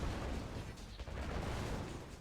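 A tank battle in Red Alert 2 rumbles with faint overlapping gunfire and explosion booms, a dense low wash of in-game combat heard quietly in the background.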